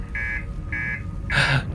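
An alarm in the video game Outer Wilds sounds two short, steady buzzing tones in a row, followed by a louder, broader burst of noise, all fairly close.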